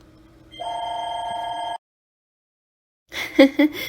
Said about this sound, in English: my house phone rang